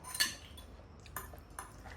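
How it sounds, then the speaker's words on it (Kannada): A baby eats with a spoon, and the metal cutlery clinks sharply against a dish three times at irregular intervals, bright and close, over a quiet room. "ನನ್ನ ಮಗ ಹಠ ಮಾಡಿ ಸ್ಪೂನ್ ಇಸ್ಕೊಂಡು ತಿಂತಾ ಇರೋದು"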